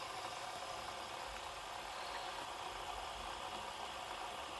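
A Genji star ninja shuriken fidget spinner spins steadily, giving a continuous, even whirring hum with no break or change in level, close and fairly quiet, with no talking.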